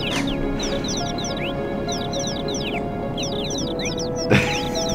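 Chicken enemy clucking in the video game Final Fantasy VII, a steady run of repeated chirpy clucks over a constant game music and ambience bed, with a brief louder burst near the end.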